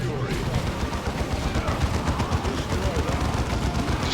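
Rapid gunfire rattles in dense, continuous bursts during a Warhammer 40,000: Dawn of War II battle, loud and close with a chaotic mix of shots and impacts throughout.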